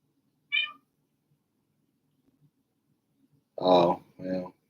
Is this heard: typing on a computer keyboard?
no